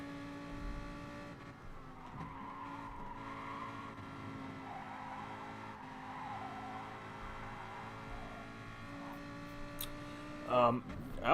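Game race cars, a Ferrari and a Lamborghini in a GT-class online championship round, drone steadily throughout with engine tones shifting through a corner, a brief tire squeal near the end, under commentary.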